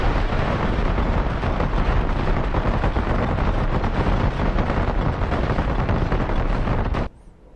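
Weapon explosions from an air-to-ground strike in the DCS World flight simulator, a Gripen jet dropping munitions: a long, loud, dense roar of blasts and rumbling that cuts off abruptly near the end.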